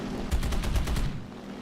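Tank cannon and gun fire in War Thunder, a rapid burst of about seven or eight evenly spaced shots crackling over a heavy low rumble, fairly close and loud, then fading to engine drone.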